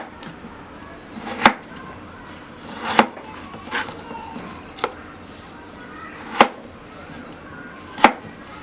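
A knife cutting potatoes into thick wedges on a board, with sharp, separate chops spaced a second or more apart against a quiet kitchen background.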